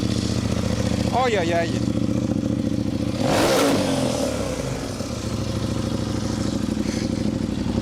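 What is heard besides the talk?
motorcycle engine started and revved, AliExpress exhaust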